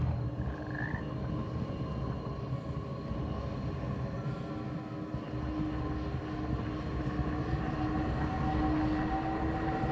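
A frog croaks in the game Hogwarts Legacy, a faint short call near the start over a steady droning ambient bed of game sound that runs the whole time, with no speech.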